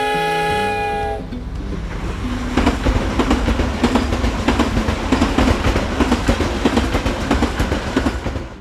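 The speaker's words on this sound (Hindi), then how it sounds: "ट्रेन छूट रही है" Train pulling out of Lahore railway station, opening with a long loud horn blast, then a steady heavy rumble and rhythmic clatter of wheels and wagons rolling close by, with no voices.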